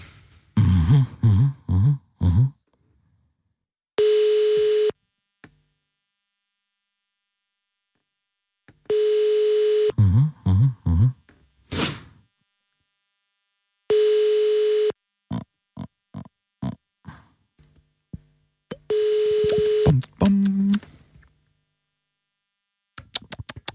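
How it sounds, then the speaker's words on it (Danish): Four steady telephone dial tones, each a few seconds long, alternate with rapid bursts of button-press beeps as a number is dialed, followed by short clicks and a brief low tone at the end of the call attempt. "vil du ikke lige prøve at ringe til Pernille Skipper"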